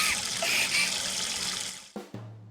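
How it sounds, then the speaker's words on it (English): Tap water runs steadily and splashes as hands are vigorously washed at a nearby water fountain in a visual novel game scene, then the flow stops abruptly near the end, leaving a low hum. "Her band just seems to be vigorously washing her hands in a nearby water fountain"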